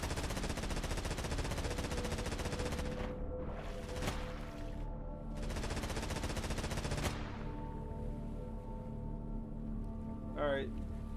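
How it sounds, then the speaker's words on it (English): A ship's gun in the video game Stormworks fires in rapid, dense bursts that stop abruptly and resume before going quiet, loud and mechanical under a low ambient hum. "This gun is shooting its own bullet casings."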